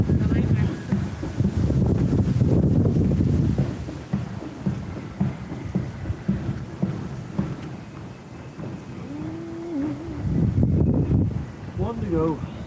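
Cold wind gusts outdoors at a band parade, buffeting the microphone in loud rumbling waves, with distant crowd bustle and scattered voices mixed underneath.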